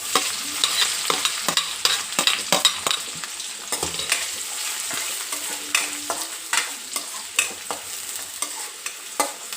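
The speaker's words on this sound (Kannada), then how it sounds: "ಹಸಿಮೆಣಸು ಇವನ್ನು ಹಾಕಿ ಅದೊಂದು ಚೂರು ಫ್ರೈ ಆಗಲಿ. ಈಗ ಸಣ್ಣದಾಗಿ ಕಟ್ ಮಾಡಿರೋ ಆನಿಯನ್" Green chillies and finely chopped onion fry in a pan with a continuous crackling sizzle, punctuated by frequent sharp scrapes and taps of a spatula stirring, close and fairly loud without any voices.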